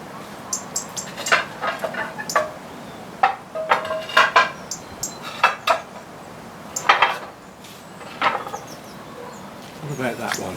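Ceramic bonsai pots clink and knock as they are picked up and shifted about during a winter repotting job, a scatter of sharp close clatters with soft talk around them.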